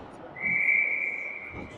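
A referee's whistle stops play at a youth ice hockey game after a clearing attempt goes over the bench. One long, shrill, sustained blast sounds over faint arena murmur.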